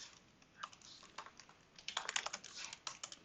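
Quiet clicking of a computer keyboard as code is typed, in irregular bursts of keystrokes that get busier toward the end, soft and close.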